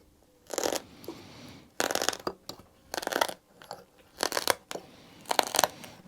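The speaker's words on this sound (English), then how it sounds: "my scalpel is getting a bit blunt now. You can hear it's actually tearing rather than actually cutting." A blunt scalpel is drawn through shadow foam while a toolbox insert is cut out, giving five or six rough, scratchy tearing strokes, each lasting about half a second, close and fairly loud, separated by short quiet pauses.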